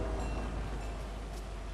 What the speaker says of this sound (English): Ooh, I'm gonna jump on the train.